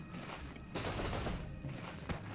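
In Warcraft 3, units attack a cannon tower, producing a dense, rapid fusillade of overlapping impacts and shots. The game combat rumbles steadily with a few louder hits and no talking.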